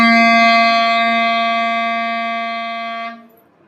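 Clarinet sounding a single sustained C note, a steady rich tone held for about three seconds before cutting off cleanly, played alone and close.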